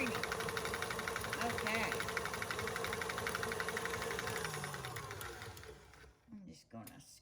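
A blender whirs on high speed as it purées a pumpkin bar mixture, a steady loud motor whine that fades and cuts off near the end, with a voice speaking briefly.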